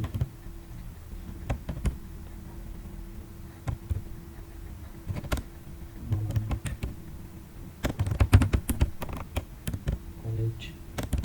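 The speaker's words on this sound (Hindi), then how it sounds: "यहाँ पर हमने टाइप करना है कॉलेजों के नाम" Computer keyboard keys clatter as college names are typed into an Excel spreadsheet: quiet, irregular bursts of close clicks with short pauses, growing denser and faster toward the end.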